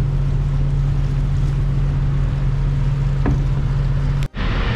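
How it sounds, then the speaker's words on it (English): An Army Corps of Engineers tug works alongside a dredge barge on a river, giving a steady low engine drone under wind and water noise, with a brief dropout near the end. "Another view here of this Army Corps of Engineers barge and their little tug there going back and forth"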